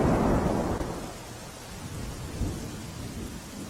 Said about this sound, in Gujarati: આજે સવારથી કેશોદ પંથકમાં પણ મુશળધાર વરસાદ